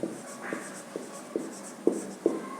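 Chalk or marker strokes on a classroom board as an alternating-current definition is written, a series of short scratchy taps and drags in uneven rhythm, close and fairly quiet, with no talking.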